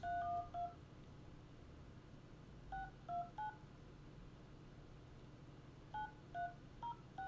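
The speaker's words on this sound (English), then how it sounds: "We'll do a quick phone call" A telephone keypad sends three quick clusters of dialing tones, each a short run of beeps separated by a few seconds of quiet room noise, faint and close with no voices.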